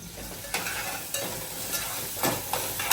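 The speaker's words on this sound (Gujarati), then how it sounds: "તો અહીંયા પુલાવ બનાવવાની તૈયારી ચાલે છે અને બીટરૂટ પુલાવ બને છે." Beetroot pulao stirred in a frying pan, a spoon scraping through the rice in several strokes over a steady background sizzle, close and moderately loud, with no talking.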